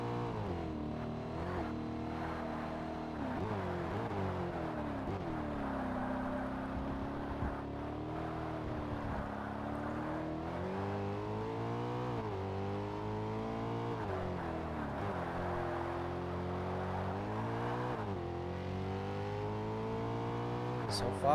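Race car engines roar continuously in Forza Motorsport S Class championship racing, a Chrysler among the field, with loud sustained revs rising and falling through gear shifts while a voice talks over them.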